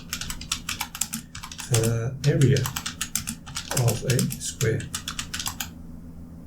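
Rapid computer-keyboard typing clatters close by in quick, uneven bursts of key clicks, running under a person speaking and then stopping.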